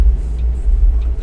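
A car drives past in the video game Tourist Bus Simulator, a loud, steady low rumble of engine and road noise that swells slightly and holds close throughout, with no talking.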